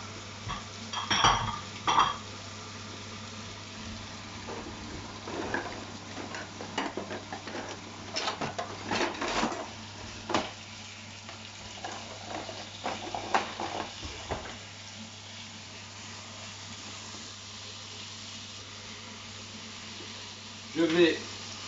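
Chicken pieces go into a hot frying pan for a Greek chicken youvetsi, bringing scattered clinks and scrapes of utensils against the pan and stirring over a faint sizzle, with a low steady hum underneath.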